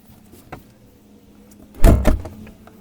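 A Toyota RAV4 rear door is swung open and shut, giving a soft click early on and then a heavy thud with rattle near the end, close by and otherwise quiet.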